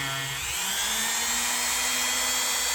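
A power tool with a buffing wheel spins steadily while rubbing compound polishes the blade of a vintage Hammer Brand Barlow knife; the loud whine rises in pitch, then holds a constant drone, close and continuous.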